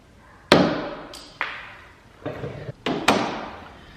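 Plastic trim clips being pried out from under the trim of a Jeep JL, giving several sharp close pops and snaps spaced unevenly, each with a short decaying tail, with no talking.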